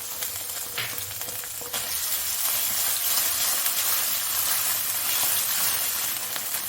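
Garlic sizzles and fries steadily in a hot pan while a Sudanese salad is being made, a dense, continuous crackling hiss at close range with no talking over it.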